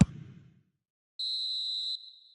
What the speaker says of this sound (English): And the whistle goes for half-time.